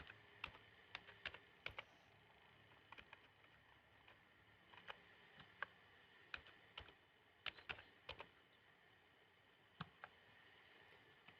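Typing on a computer keyboard, sharp scattered keystroke clicks in irregular bursts over a faint steady background hum, close and fairly quiet.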